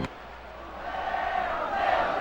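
A stadium crowd in the MLB 2K5 baseball game swells into sustained cheering and yelling, growing steadily louder over a couple of seconds.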